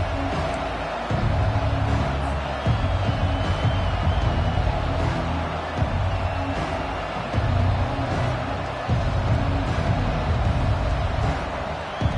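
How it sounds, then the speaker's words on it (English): A college football stadium crowd roars in a steady, dense wash of noise that holds for the whole stretch, loud and enveloping, with no single voice standing out. "This crowd, full throat, spreading the eardrums and letting them know it's going to be a long day."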